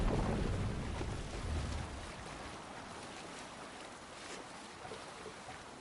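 A Viking longship under sail in Assassin's Creed Valhalla, its hull rushing through waves in a steady wash that is strongest at first and then settles into a softer, even swash.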